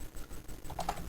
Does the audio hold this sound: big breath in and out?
no